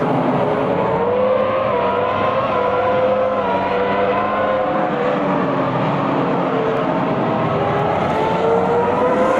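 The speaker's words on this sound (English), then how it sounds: "we are driving as Mika Salo in the number 24 Toyota" Engine of Mika Salo's number 24 Toyota Formula One car at the 2002 US Grand Prix, heard from onboard as a loud, sustained high-pitched scream whose pitch rises and falls steadily through gear changes, with no talk over it.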